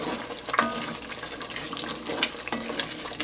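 Garden eggs and yam fry in a pot with Sazon seasoning and Maggi cubes, giving a steady, close sizzle with faint watery crackle and a few soft clinks throughout.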